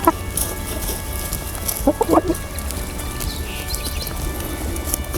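Chickens peck at fresh grass, dandelions and couch grass in a yard, with soft clucks and a short burst of hen calls near the middle over steady outdoor background noise.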